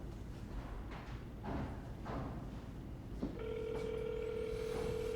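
A telephone call being placed: a few soft dial tones followed by a steady ringback tone, faint and alone over low room noise.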